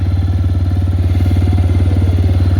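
A motorcycle engine idling while it warms up, a loud, close, steady low thumping putter with an even rhythm and no other sounds.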